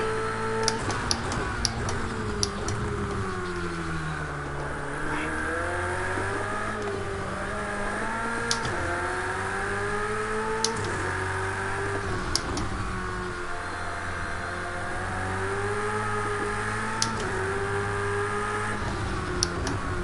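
Ferrari 488 GT3 racing around Fuji in Project Cars 2, its engine note rising and falling steadily through gear changes with rhythmic revving and sharp clicks of shifts, loud and continuous with no talk.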